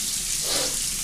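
A short stretch of warm tap water running into a sink for washing goalkeeper gloves, a steady near rush without any voices.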